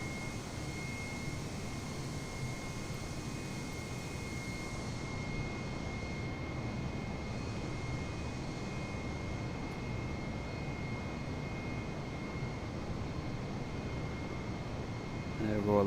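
The A320neo jet's engines in Microsoft Flight Simulator 2020 drone steadily through a flight over east London. The roar is even and unbroken, with a broadband rush and faint tonal whine throughout.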